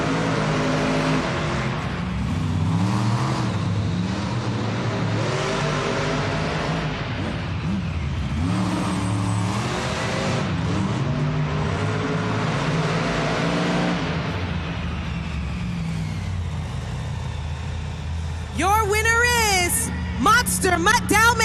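Monster trucks at an indoor arena event roar with a steady engine drone and throttle swells, loud and close throughout, and a crowd and announcer can be heard underneath.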